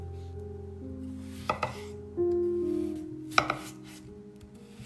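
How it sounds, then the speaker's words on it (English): A knife cuts potatoes into large squares on a board. A few sharp, spaced chops stand out, and a steady low hum runs underneath. "cut them into large squares"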